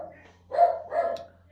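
A dog gives two short barks close by, a brief pause between them, against an otherwise quiet room.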